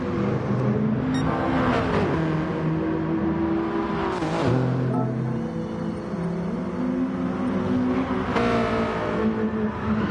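BMW race cars in a racing video game roar continuously at close range, engines revving up and dropping through gear changes in repeated sweeping pitch shifts, with no talking.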